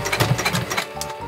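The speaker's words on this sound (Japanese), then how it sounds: "いつも通りミシンのこの押さえの幅ぐらいの5ミリぐらいの端ミシンかけていきます" A sewing machine edge-stitching about 5 mm from the edge of a bag remade from an obi, its needle running in a fast, close, rhythmic chatter.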